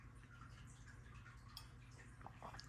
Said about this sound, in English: I apologize for the sound of water in the background.